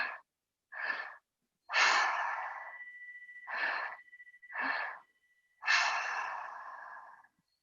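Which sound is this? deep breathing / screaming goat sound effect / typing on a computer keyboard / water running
deep breathing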